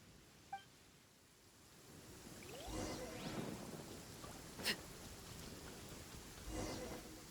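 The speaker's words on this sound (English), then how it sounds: "Uh-oh! Lightning storm!" A thunderstorm in the video game Genshin Impact: soft, constant rain hiss with a few low, distant rumbles of thunder rolling in, all faint and without any voices.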